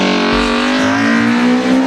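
A BMW M3 E36 engine with independent throttle bodies revs hard and loud, a sustained high harmonic howl with small throttle pulses throughout.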